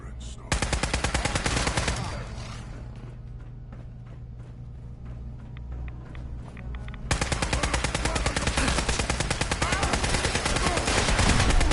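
Sustained automatic gunfire from a Fallout 4 firefight, loud and dense rapid bursts that ease off into sparser shots and rumble mid-clip before a heavy continuous barrage resumes.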